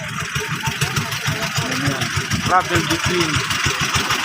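A pump boat engine chugs steadily at the port of Pampang in Northern Samar, its low pulsing rhythm running the whole time beneath nearby voices talking.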